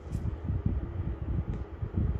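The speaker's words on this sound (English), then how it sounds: "that's my air conditioner." A home air conditioner runs as a steady low hum and whooshing drone near the microphone, continuous and unchanging throughout the moment.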